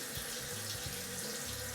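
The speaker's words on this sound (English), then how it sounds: "next you'll hear the water running" Tap water running steadily into a sink while a face is wetted before shaving, a continuous close splashing stream with small shifts as hands move through it, no voices.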